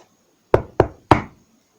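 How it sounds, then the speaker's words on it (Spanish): Three sharp knocks on a wooden door, close and loud, evenly spaced with a slightly longer gap before the last, in an otherwise silent room. "Instante después, llamaron a la puerta."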